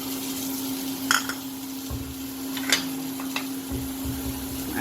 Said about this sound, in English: Now let's go ahead and add the tomatoes.